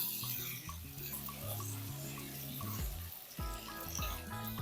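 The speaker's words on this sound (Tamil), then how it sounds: "ரெண்டே ரெண்டு பெரிய தக்காளியாக எடுத்து போட்டிருக்கேன் இதையும் வதக்கிடலாம்" Two large tomatoes sautéing with onions in a pan for a chicken fry, giving a soft continuous sizzle and stirring scrape over a steady tonal hum, close and moderately loud with no talk.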